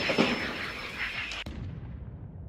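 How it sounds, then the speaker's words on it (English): Heavy artillery shelling in War Thunder as Russian guns pound a Ukrainian Bradley's position: a loud rumbling blast with a sharp crack near the end, then a fading low roar. "the shelling from Russian artillery only gets worse"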